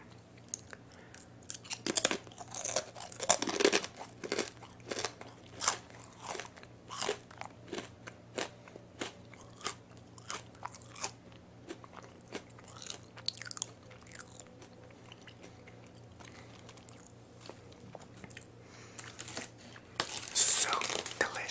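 Crunchy garlic parmesan chips are eaten close to the microphone in ASMR style, with sharp bites and brittle crackling followed by repeated chewing crunches. Louder bursts come near the start and end over about twenty seconds.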